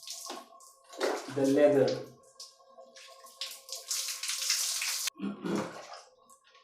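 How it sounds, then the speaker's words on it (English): Running water from a shower or tap rinsing shampoo out of hair, a steady rushing spray in the middle stretch, with a voice speaking before and after. "Rinsing my hair. So rinsing out all the shampoo"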